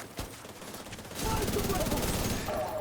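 Rapid automatic gunfire in a first-person shooter video game, a fast continuous burst of shots after a quieter opening with a single crack, with faint voices underneath.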